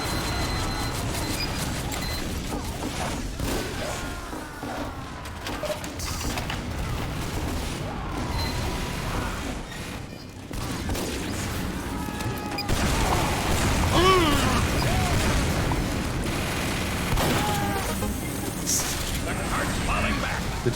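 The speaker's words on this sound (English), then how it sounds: "The cheeky little shotgun shot." Shotgun blasts and weapon clatter from a Team Fortress 2 match pop in bursts over constant game noise, with a player talking throughout.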